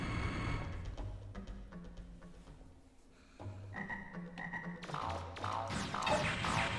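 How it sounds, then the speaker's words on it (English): Frogs croak in Mega Man Legends 2 as a run of low, throaty croaks in a rhythmic pattern, mixed with game music and effects, fairly quiet, with no talk. "Frogs!"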